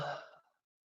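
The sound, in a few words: narrator imitating a sloth's yawn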